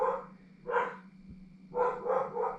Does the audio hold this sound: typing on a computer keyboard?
no